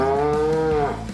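A single loud, close cow moo plays as a sound effect in a Farming Simulator 25 ad, rising and falling over about a second.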